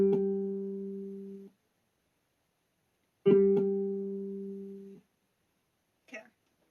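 A sustained musical note G sounds twice for pitch training, each a clean, steady tone lasting about a second and a half and separated by silence, followed by a brief faint sound.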